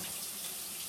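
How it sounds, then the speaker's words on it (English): Tap water runs steadily as shiitake mushrooms are rinsed under it, a close, continuous splashing gush with no voices. "I'm going to give them a little bit of a rinse"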